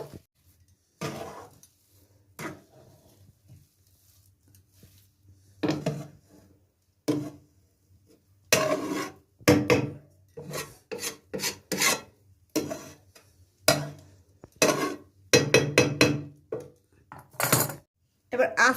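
Rice flour dough is kneaded by hand for flatbread, giving irregular rubbing, squishing and pressing sounds in close bursts with quiet gaps and occasional light knocks against a bowl.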